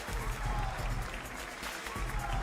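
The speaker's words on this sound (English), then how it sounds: "Crowd here in Milan." A crowd at the Gran Turismo World Series in Milan applauds in a steady, dense wash of clapping that holds throughout, with faint talk underneath.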